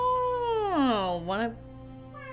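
A domestic cat gives a single drawn-out meow that sweeps down and back up in pitch, close and clear, followed by a brief spoken word.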